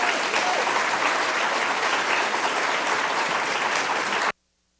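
An audience applauds warmly as Sheila Watt-Cloutier is welcomed to a stage, a dense, steady clapping that holds for several seconds and then cuts off abruptly.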